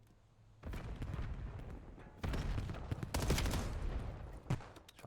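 Rapid gunfire in a Call of Duty video game match, with dense bursts of automatic shots that start suddenly, pause briefly, then return louder, plus a sharp single crack near the end.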